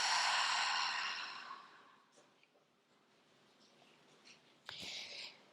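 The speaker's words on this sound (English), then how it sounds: "Exhaling." A long, breathy exhale during slow yoga practice fades out over a couple of seconds, followed by quiet, then a short sharp intake of breath near the end, close and soft.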